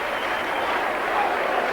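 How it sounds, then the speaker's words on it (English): Warrington fans cheer and applaud at a Leeds versus Warrington rugby league match, a steady, broad crowd roar held at even loudness throughout. "It's a beautiful kick from Paul Bishop, and the Warrington fans delighted. You must have heard the cheer."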